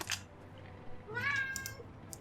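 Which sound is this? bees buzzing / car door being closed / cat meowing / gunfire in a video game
cat meowing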